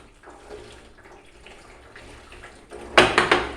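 Running water splashes over freshly unflasked seedlings held in a sieve: faint trickling at first, then a few loud, close splashing bursts at the end.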